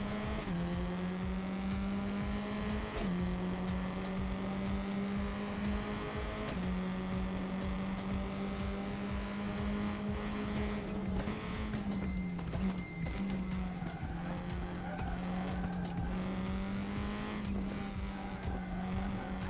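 Race cars in the RaceRoom racing game roar at a steady engine drone, with tire squeal and skidding sounds mixed in, continuous and loud throughout with no talking.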